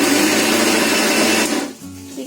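A mixer grinder grinds spices into powder, a loud broadband whir running steadily for about a second and a half before cutting off, leaving a lower hum and quieter sounds behind.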